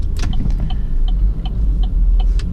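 Chevrolet Cruze turbo car accelerating on an open road, a steady close engine and road rumble running throughout with faint repeated ticking clicks from inside the cabin.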